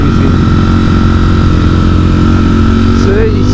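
Ducati StreetFighter V4 riding on a coastal road, a loud, constant engine drone held steady in one gear with strong low rumble and wind noise, a voice briefly heard over it.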